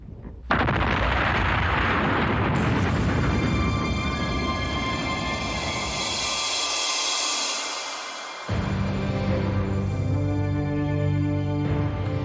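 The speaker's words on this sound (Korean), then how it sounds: "자, 폭발 2분 전입니다." One big, close explosion bursts out and leaves a long, loud, rumbling roar that slowly fades, with no voices heard.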